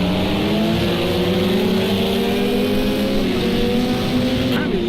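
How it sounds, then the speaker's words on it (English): Steady engine drone of a GT Porsche race car in the Project CARS 2 endurance race at Fuji, a continuous high-revving tone with gradually shifting pitch, loud and constant, with other cars faintly behind. "Apparently the sound of the GT Porsche has changed in the last patch"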